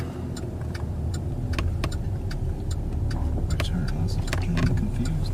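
Riding inside a moving Jeep brings a steady engine and road rumble, with light rattles and clicking ticks scattered over the drone and no pause in the motion.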